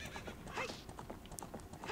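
Horse in Zelda: Ocarina of Time (Nintendo 64) whinnies and neighs over steady clip-clopping hooves, game sounds close and continuous with no talking.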